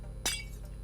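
A single short glassy clink as a glass block is placed in Minecraft, faint and brief, with quiet background hum.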